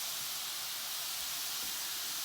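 Steady, even sizzle of ingredients browning in a hot pan for a homemade pasta sauce, a continuous hiss with no pauses and no talk.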